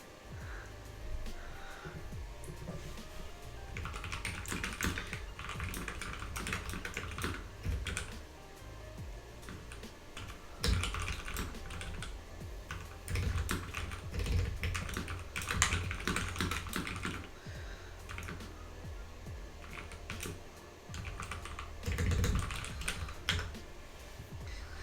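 A computer keyboard is typed on steadily in bursts of rapid clicks and clacks, with short pauses between flurries, close and clear over faint room noise.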